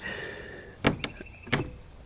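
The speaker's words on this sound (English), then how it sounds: "That is the heaviest door I've ever built." A very heavy oak door is shifted, giving a few sharp wooden knocks and clunks in quick succession against a quiet background hum, close and moderately loud.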